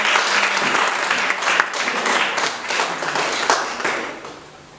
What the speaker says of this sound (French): Est-ce qu'on peut acclamer la parole du Seigneur?